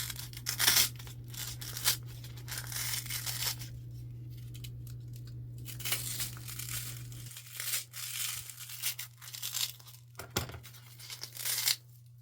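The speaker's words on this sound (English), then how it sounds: "I'm going to take my utility knife and I'm going to cut that bottom out so that it sits smoother and flat against the floral foam" A utility knife cuts a small circle out of the bottom of a foam piece for a skeleton lantern craft, giving soft intermittent tearing and crinkling scrapes over a low steady hum.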